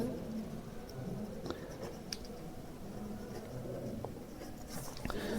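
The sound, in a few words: pen writing while filling voter form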